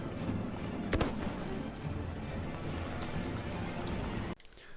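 Starter sniper rifle shots in the Battlefield 1 beta, one sharp loud crack standing out over a dense, busy battlefield din of distant gunfire and explosions that cuts off abruptly near the end.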